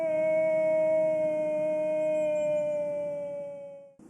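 A Mongolian hunter imitates a wolf's howl to lure wolves, one long sustained, wavering tonal call held for about four seconds before breaking off, loud and close with no other voices.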